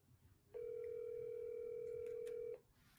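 A telephone gives a steady, loud dial tone lasting about two seconds and then cuts off, with faint keypad blips over it as a number is dialed.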